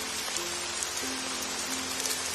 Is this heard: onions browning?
no